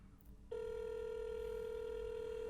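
Telephone ringing tone on a call, starting after a brief moment of quiet and holding as one steady, loud, unbroken electronic tone to the end.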